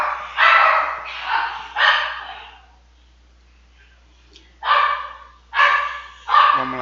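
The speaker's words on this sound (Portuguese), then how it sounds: "o cachorro deu um escândalozinho aqui de leve" A dog barks in sharp bursts, three quick barks, a pause of a couple of seconds, then three more, loud and fairly close in an indoor room.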